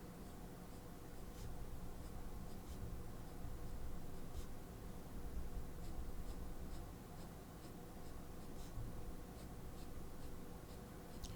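A Pilot Iro Utsushi dip pen with a fountain-pen-style nib scratches softly across sketchbook paper while inking a drawing. The quiet strokes come in an irregular rhythm over faint background hiss.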